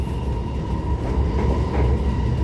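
An SMRT North-South Line R151 train runs between Jurong East and Bishan, giving a steady, loud low rumble with a constant mid-pitched hum and faint rhythmic clatter throughout.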